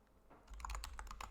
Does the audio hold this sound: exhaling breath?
no